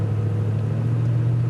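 A stuck truck's engine holds a steady, loud, low revving drone while its tires spin, close and continuous with no voices.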